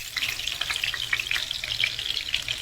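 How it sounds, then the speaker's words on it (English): Chicken dumplings fry in a pan with a steady, dense sizzle and crackle, close and continuous, with bursts of spitting oil throughout. "And then just turn over and fry again for a few minutes on the other side."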